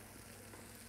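Shrimp dropped into a pan with a little added oil over medium heat sizzle in a steady, dense hiss that stays loud and close throughout, with no talking.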